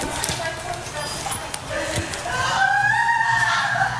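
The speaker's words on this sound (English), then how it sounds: "It's a duck." A duck calls outside an apartment in Florida, a few honking cries rising over background noise while people talk nearby.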